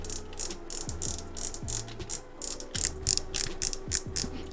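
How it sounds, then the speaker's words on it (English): The star drag on a fishing reel is turned in short bursts, producing crisp, close ratcheting clicks that come in repeated quick runs with brief pauses between them. "Here is the star drag"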